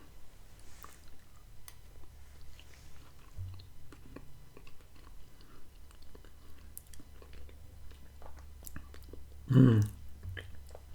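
Someone chewing Bush's baked beans with bacon and brown sugar at close range: quiet, moist mouth sounds and soft squishes spread through a hushed stretch, with one louder bite near the end and no talking.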